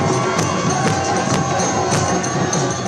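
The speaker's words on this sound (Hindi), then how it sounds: "हवाई पट्टी से सभा स्थल तक सड़क के दोनों ओर लोगों की भारी भीड़ उमड़ आई।" A large roadside crowd in Pithoragarh cheers to welcome the Prime Minister, making a loud, dense wall of shouts and voices. Sharper whistles and cries poke through it over the whole stretch.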